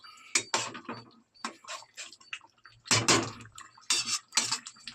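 Chicken gravy stirred in a pan with a spoon, irregular bursts of clinking and scraping against metal with short pauses between strokes, close and moderately loud.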